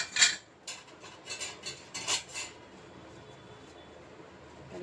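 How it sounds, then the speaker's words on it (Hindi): A knife cuts soft pav bread rolls into pieces on a board, a short series of light scraping, clicking strokes close by, then fading to quiet room tone. "नॉर्मल पाव विथ मी, जिसको मैं कट कर लूँगी"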